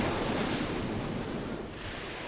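Large surf breaking at La Jolla Cove, a steady loud broadband wash of churning water with wind buffeting the microphone, continuous and close with no voices.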